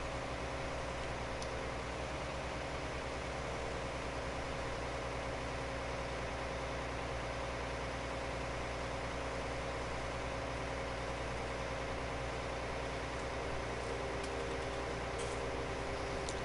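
A harvester tractor engine in Farming Simulator 19 hums at a steady low drone, faint and unbroken, with a constant whine running through it.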